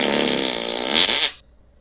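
A voice mimics a fart with a single loud, buzzing, spluttering raspberry lasting just over a second, close to the mic and then abruptly cut off into quiet.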